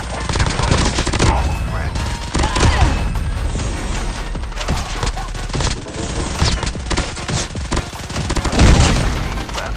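Dense, loud automatic gunfire in a Call of Duty Mobile Battle Royale match, bursts of rapid shots and impacts continuing throughout with occasional booms, no one talking.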